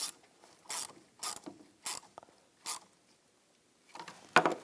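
Ratchet wrench clicking in short bursts while tightening the negative battery terminal bolt on a 2010-2017 Chevrolet Equinox, close and crisp, with pauses between strokes.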